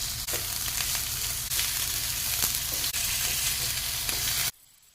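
Chicken pieces sizzle steadily as they grill in a hot pan, a loud continuous crackle with occasional clicks before it cuts off abruptly near the end.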